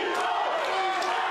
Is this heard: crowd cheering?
yes